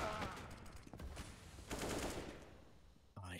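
Gunfire in a Counter-Strike match at the IEM Dallas 2022 NA Qualifier, with dense automatic bursts and overlapping shots loud up close, tapering off before a short sharp click at the end.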